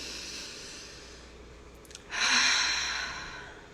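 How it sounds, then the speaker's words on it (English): A person breathing during a breathwork session, first a soft, quiet intake, then a sharper, louder rush of air through the nose that fades out over about a second and a half. "I just wanted you to breathe a little bit casually through your nose"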